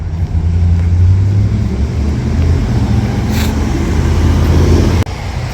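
Road traffic at a jammed intersection on a mild winter Saturday, a loud steady rumble of idling and slowly moving vehicles close by, ending with a sharp click.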